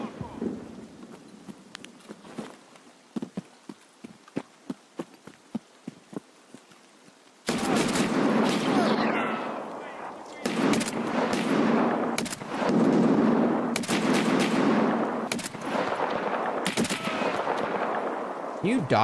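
Gunfire in the video game Escape from Tarkov: scattered single shots at first, then a loud burst of sustained automatic fire with dense, overlapping bangs that keeps going to the end, while someone speaks in the background.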